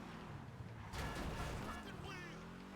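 Car engine hum with tire and road noise from driving through Los Santos in GTA, steady throughout with a louder burst of crashing or revving in the middle.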